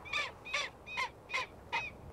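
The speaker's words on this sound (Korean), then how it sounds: "저게 남극 스쿠아라고" A south polar skua in Antarctica gives five harsh, evenly spaced cawing calls, moderately loud with a quiet background.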